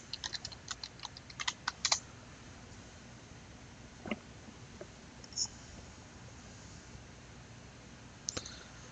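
Typing on a computer keyboard at a live-streamed desk: a quick burst of close, crisp key clicks at the start, then a few scattered taps over a quiet room background.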